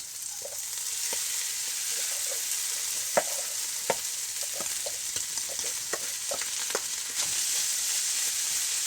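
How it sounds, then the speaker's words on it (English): Prawns and rice stir-frying in a hot pan give a constant bright sizzle, broken by scattered clacks and scrapes of the utensil stirring, close and steady throughout. "So now I'm going to take all that rice and dump it in."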